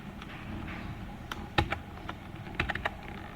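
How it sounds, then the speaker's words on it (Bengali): Computer keyboard keys pressed for a Shift+Enter shortcut, a handful of sharp separate clicks spread irregularly over a quiet room background, close and fairly crisp. "আমরা যদি শিফট এন্টার দিই"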